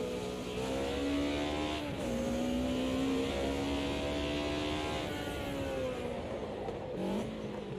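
A BMW race car engine in the Assetto Corsa racing sim drones steadily at high revs, with its pitch dipping and climbing through gear changes and lifts, loud and close with no voices.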